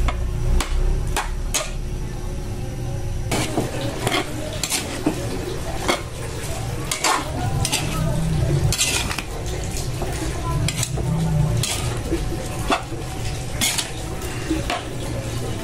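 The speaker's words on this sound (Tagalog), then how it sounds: "Konting gisa lang yan hanggang lumambot ang veggies." Mixed vegetables being sautéed for igado in a home kitchen, with a utensil repeatedly clanking and scraping against the pan over a steady low sizzle, close and continuous.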